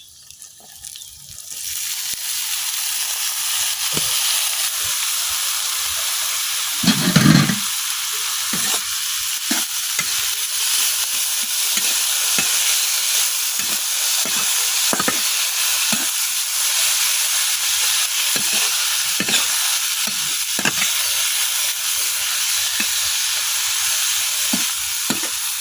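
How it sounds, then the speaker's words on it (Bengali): Potatoes and carrots with turmeric, salt and green chillies fry in a pan, a loud steady sizzle running throughout with repeated scraping strokes of stirring and an occasional louder clatter. "হলুদ আর লবণের সাথে আমি খুব ভালোভাবে আলু আর গাজরটা মিশিয়ে নিচ্ছি"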